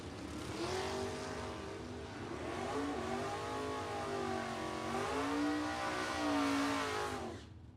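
Drag racing cars, a Chevrolet Nova and a Vega, launch at a bracket racing event, engines roaring loudly and rising in pitch through repeated gear changes before cutting off abruptly.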